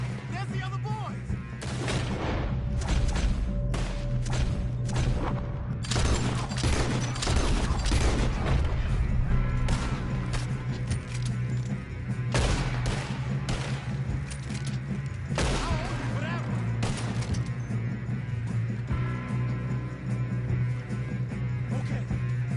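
Rapid bursts of gunfire in Red Dead Redemption 2 on PS5, sharp cracks and booms fired in clusters over a steady low hum for over twenty seconds, with voices talking among the shots.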